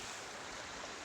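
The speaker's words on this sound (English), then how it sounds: "here's the creek down there, and somewhere down there we can still hear the falls" Creek water on the South Fork of the Alsea River rushes steadily, a broad continuous wash heard from above at a modest distance, with no voices.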